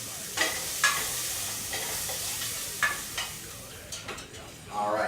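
Onion and garlic sauteing in melted butter in a pan, a steady soft sizzle with several sharp clicks and scrapes of stirring scattered throughout, rising a little louder near the end.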